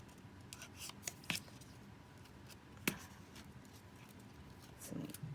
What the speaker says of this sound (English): I'm gonna cut the edge.